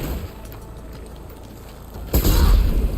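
A loud explosion goes off in Horizon Forbidden West, a sudden deep boom that cuts through a quieter stretch of game ambience and lingers as a heavy rumbling tail.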